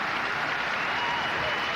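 A sellout arena crowd at a figure skating event at the Richmond Coliseum applauds in a dense, continuous wash of clapping, steady and loud throughout.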